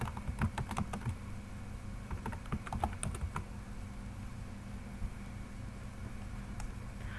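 Computer keyboard being typed on while filling in an Excel invoice: a quick flurry of close key clicks for about three and a half seconds, then quiet room hiss with a single stray click near the end.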